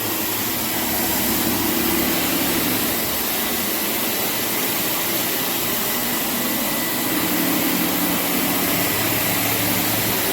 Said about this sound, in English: that's why we have this special machine just from hardwood floors